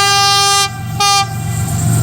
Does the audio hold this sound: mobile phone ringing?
no